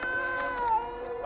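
A cat meows in a drawn-out, wavering cry from a scene in the film Hocus Pocus, a single sustained call that holds steady and then slides downward, fairly close and with no talking.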